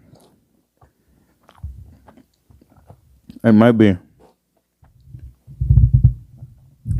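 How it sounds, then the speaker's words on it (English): Chocolate chip cookies are chewed right against the microphone, giving soft, wet, crunchy mouth sounds in short bursts, close and intimate, with a brief spoken phrase in the middle. "Chewing right in the mic."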